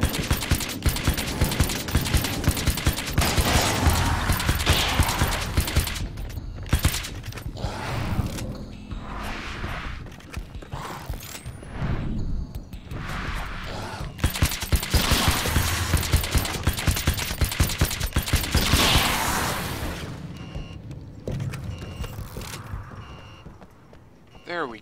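Gunfire rattles in Alan Wake's American Nightmare, loud bursts of rapid shots repeating in clusters with brief lulls between them over roughly twenty-five seconds.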